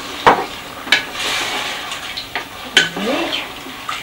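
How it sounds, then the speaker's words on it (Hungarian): Water is poured into a pot of frying food: a loud sizzle swells over a rushing splash, with sharp metallic clinks and scrapes of a utensil against the pot recurring throughout. "és akkor most aláöntöm a vizet"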